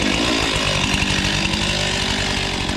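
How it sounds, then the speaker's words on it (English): A $650 chainsaw idles steadily while warming up, its engine giving a continuous, close, loud two-stroke burble with a rapid even pulse and no break. "Let your saw warm up, for crying out loud."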